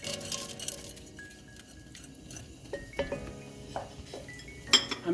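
Bacon dropped back into a Dutch oven with butter and olive oil, giving a run of light metallic clinks and pot-and-utensil clatter, sharper knocks near the end, over a low kitchen hum.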